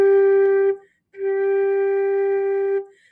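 A flute plays the note G with slow air, so the pitch drops down to the lower octave. A short tone is followed by a pause, then a longer steady held note, clear and alone with a faint breathy edge.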